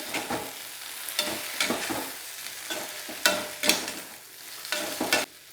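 Raw banana curry stirred in a pan with green chillies, a spoon scraping and clattering in repeated strokes over a soft sizzle, close and without talk.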